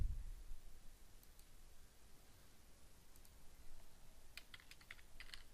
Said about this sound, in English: So here I type Slate